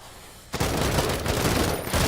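Sustained close-range gunfire in a tactical war video game breaks out suddenly after a quiet moment, a dense, loud rattle of rapid shots that continues without letup to the end.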